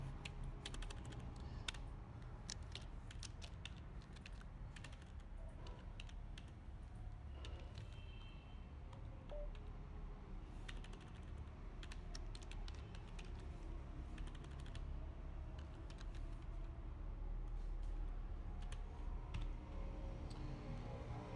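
Steady, fast computer keyboard typing while a shell script is entered, continuous light key clicks over a constant low hum, with no talking.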